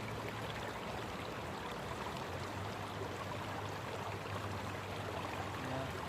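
River water rushes steadily through a gold sluice in a flowing river, a constant dense wash of near, even noise with no pauses and no voices.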